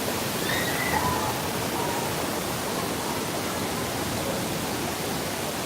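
A big wave of water crashes down over riders on a Disney California Adventure water ride, a loud, unbroken rushing roar that holds steady throughout, with a faint squeal briefly audible early on.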